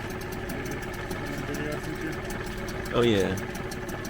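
A used outboard motor runs at a steady, even drone throughout, idling close by while someone speaks briefly over it.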